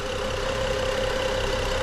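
BMW N55 engine running steadily during break-in, a constant close drone with a steady mid-pitched hum, no clear revving rise within the short stretch.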